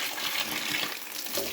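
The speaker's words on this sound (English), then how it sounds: "that's me draining now the jet pump from this side first" Water draining out of a cottage jet pump while it is being closed up for winter, a steady close hiss and splash of flowing water with no pauses.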